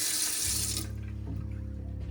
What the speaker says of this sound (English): And you can hear the freshwater pump there.